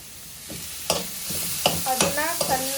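Carrot and capsicum stir-fried together in a pan, a soft sizzle with several sharp spatula scrapes and clinks growing busier toward the end, close by and with no talking.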